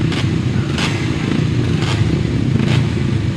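Solo grasstrack motorcycles leave the start of an open race together, a loud, close engine roar with recurring revving surges and clattering bursts.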